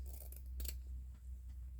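Scissors rough cutting fabric with a few quick crisp snips close by, resting on a low steady hum, and no voices.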